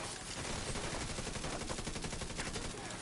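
Sustained rapid automatic gunfire from the Division 2 game, a loud continuous rattle of shots layered with overlapping bursts, dense and unbroken for the whole stretch.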